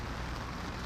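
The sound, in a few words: driving rain outside court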